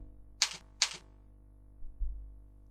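Two quick, sharp key clicks from a computer keyboard during AutoCAD work, close and clear over a low steady hum, followed by faint soft thumps. No speech.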